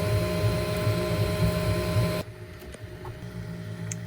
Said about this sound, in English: the printer starts to print your part